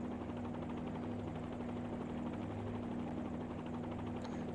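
A helicopter on approach and landing in a flight simulator game produces a constant rotor and turbine hum with a droning low tone, steady and unbroken, with no one talking.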